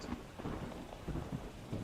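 A thunderstorm with rumbling thunder rolling in repeated low surges over steady rainfall, heard as a fairly faint, continuous background without speech.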